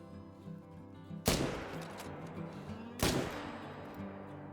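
Two sharp rifle shots at a fox ring out in The Hunter: Call of the Wild, each a loud crack with a long rolling tail, set about two seconds apart.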